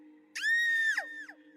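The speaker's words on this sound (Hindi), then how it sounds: "अपने कानों को हाथों से ढककर श्रावणी चीखी" A woman's sustained, high-pitched scream of terror, loud and held for about half a second before breaking off, set over a low steady hum in a horror story scene.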